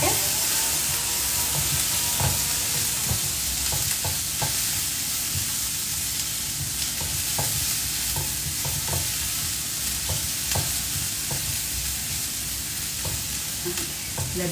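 Chopped onions sizzle in a pan with cumin, a steady loud frying hiss that runs throughout, broken by scattered clicks and scrapes of stirring.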